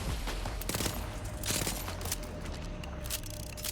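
Rapid bursts of gunfire in the Borderlands 4 video game, dense overlapping shots with a steady rattle over a busy game soundscape, fairly loud and continuous throughout.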